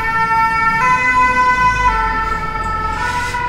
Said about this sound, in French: On va laisser passer les pompiers.